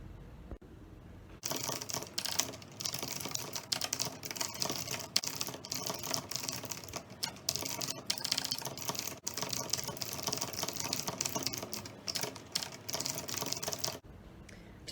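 Rapid clicking of computer keyboard keys while a novel chapter is typed, dense and steady, close to the mic, with brief pauses between bursts and no talking.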